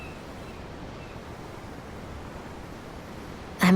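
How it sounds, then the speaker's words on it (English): Steady ocean surf washes on without pause in Tales of Arise, soft and broad like wind over water, with a brief louder burst right at the end. "The ocean? Yeah. The waves. They help me think."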